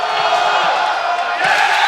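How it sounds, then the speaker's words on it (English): Loud, dense roar of a packed arena crowd at a college men's basketball playoff game, sustained and close throughout with surges of shouting and whooping. "Crowd getting very loud."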